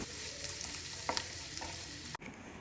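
Chopped garlic sautéing in melted butter in a pan, a steady soft frying sizzle with a few light stirring scrapes, fairly quiet and close, ending in a brief sharp clatter.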